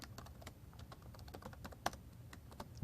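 Rapid, uneven clicking of keys on a new laptop keyboard while writing C++ code, a steady patter of close keystrokes with one sharper tap near the middle and no voices.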